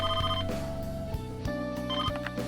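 A telephone rings in Persona 5 Royal, a bright repeating electronic ring pattern with a musical backing, sounding steadily and loud without any talk.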